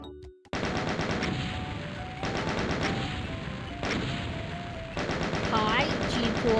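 Rapid automatic gunfire in a video game while shooting an imp, loud close bursts of fast repeated shots in four long volleys separated by brief gaps.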